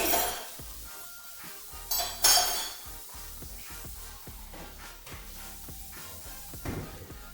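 Dishes being washed in a sink, with plates and cutlery clinking and clattering in irregular bursts and a couple of louder clanks, close up with no talking.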